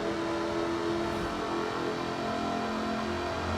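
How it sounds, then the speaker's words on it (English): Supercharged 5-litre V8 in an aluminium-bodied British sports car in Forza Horizon 4, droning steadily through a tunnel with a dense, continuous engine roar that holds constant, a low note swelling near the end. "5-litre V8 supercharged engine. With a fully aluminium body, it's blisteringly fast."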